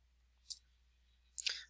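Two distinct mouse clicks on a button in Google Forms, sharp and close, about a second apart, the second slightly fuller, over near-silence.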